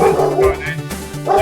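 A pet dog barks and yips in several short bursts at home, fairly close and loud, with a person's voice overlapping.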